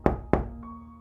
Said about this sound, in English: Then came a knock at the door